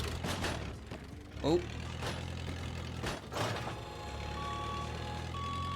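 Forklift starting up and backing in the game Good Job!, its mechanical engine hum and ratcheting clanks joined by a steady reversing beep toward the end, with a brief spoken exclamation.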